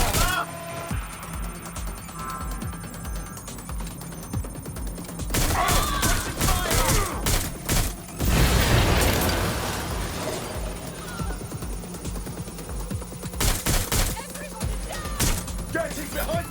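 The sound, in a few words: gunfire from the video game Watch Dogs: Legion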